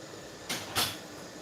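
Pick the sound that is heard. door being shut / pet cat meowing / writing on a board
door being shut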